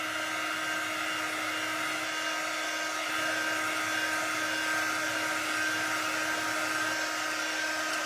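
A hair dryer blows steadily on a freshly painted school apple orchard art project, its continuous whirring hum holding close and even for the whole stretch with no voices over it.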